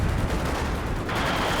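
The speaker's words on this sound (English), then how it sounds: "Machine gun in the mid." Dense, continuous battlefield gunfire from Company of Heroes 2 with a machine gun firing in the middle of the map, steady and loud with a brighter burst toward the end.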